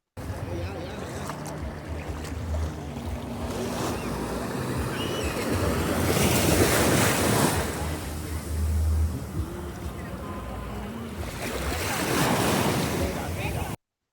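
Ocean waves wash onto a Bahamas beach, a steady roar with two louder surges as waves break, mixed with wind buffeting the microphone and faint voices in the background.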